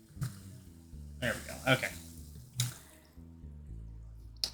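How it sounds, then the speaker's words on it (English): Liquid poured into a container in the Sileo Tai game: short splashy pouring bursts with clinks and thuds, alongside a calm voice speaking briefly. "Pour this delicious liquid in there."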